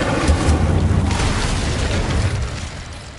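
An Incendio fire spell cast in Hogwarts Legacy makes a dense, sustained whooshing roar of flame that holds steady for about three seconds before easing slightly, loud and close, with no talk over it.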